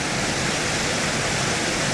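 Creek water rushing near Lower Piney Falls, a loud, steady broadband roar heard up close and alone, without pause or voices.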